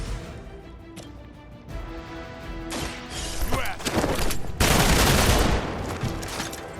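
Gunfire in the game Marvel's Midnight Suns, starting as scattered sharp bangs and building into a loud, dense volley of shots and crashes toward the end.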